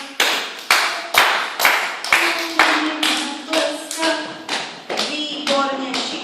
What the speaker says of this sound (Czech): umíme tleskat